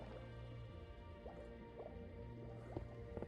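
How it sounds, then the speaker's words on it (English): Water trickles and drips in a building video game, a steady liquid stream with small squishing droplets and gurgles running throughout, moderately quiet with no one talking. "So I gotta find a way to kill that water stream."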